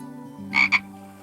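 A cartoon frog gives two quick croaks, close and clear, one right after the other over a quiet, steady musical drone.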